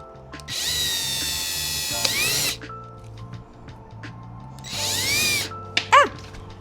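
A power drill drives a screw in a workshop during a renovation, in two loud, whining bursts that rise in pitch. Between them come quiet pauses with clicks, and a short squeak follows at the end.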